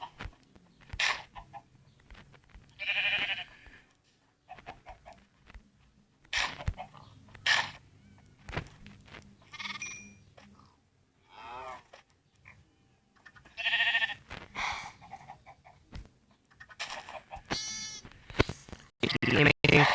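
Sheep bleat repeatedly in Minecraft Pocket Edition amid other farm animal calls, a few loud bursts spread across the clip under Portuguese talk.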